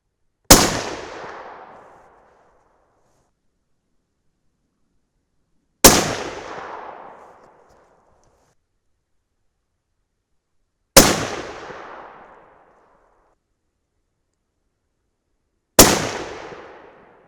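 Four sharp, loud rifle shots from a .300 Win Mag firing 168-grain hand loads, spaced about five seconds apart, each followed by a short decaying echo and silence in between.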